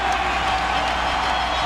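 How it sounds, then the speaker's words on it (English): Basketball arena crowd at a 2001 Eastern Conference Finals Game 7 between the Sixers and Bucks, a dense, steady roar of cheering voices filling the space without pause. "The crowd cannot wait to explode. They have been celebrating for the past several minutes."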